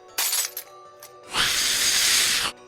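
A sharp gunshot-like crack followed by a window's glass shattering in a long, bright, crashing spray of breaking pane, loud and close with nothing else over it.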